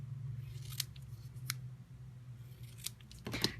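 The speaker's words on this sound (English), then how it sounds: "Let me just trim a hair of this off." Scissors trim paper for a handmade card. A few sharp, separate snips over a low background hum, with no speech.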